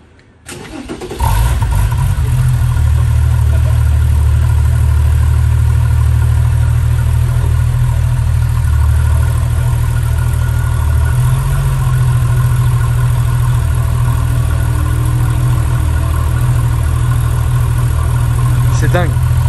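An air-cooled Porsche engine cranks and fires after about a second, then settles into a loud, steady, throaty idle close by, with a slight rise in revs midway.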